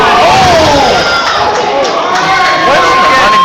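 A wrestling crowd at a Black Diamond Wrestling event cheers loudly and steadily, shouts and whoops rising over a dense roar of voices.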